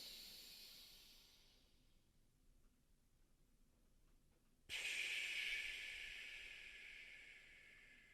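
A slow breathing exercise: a long, soft, airy exhale trails away into near silence, then a sudden fuller breath rushes in and hisses on steadily, close and quiet.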